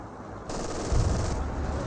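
An MG42 machine gun rattles in bursts during a Company of Heroes 2 battle, the gunfire picking up partway through and thumping heavier near the middle, with no talk over it.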